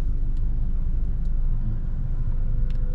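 Steady road traffic with many vehicles passing, a constant loud low rumble of engines and tires near a port, with no pauses and no voices.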